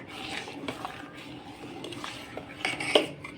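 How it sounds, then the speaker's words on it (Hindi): A spoon clinks and scrapes against a vessel while ground sugar is stirred into bel fruit juice, a steady run of close metallic taps and rattles with a few sharper knocks near the end. "इस तरह से हम सब चलाएंगे, क्योंकि किसी भी चीनी जल्दी घुल जाती है।"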